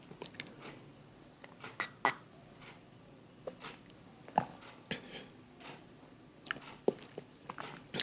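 Someone tastes a juice of kola nut, tiger nut, ginger and coconut, producing soft, scattered mouth smacks, sips and small clicks at close range over several seconds, with no talking.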